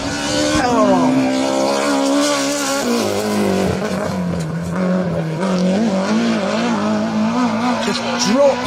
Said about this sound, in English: engine pulling hard down to that square right, brakes on, down 2 gears, in tight, tail out, power on